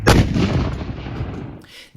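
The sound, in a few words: cannon firing after gunpowder ignites in its breech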